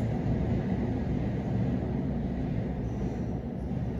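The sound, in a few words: train noise near a metro and train station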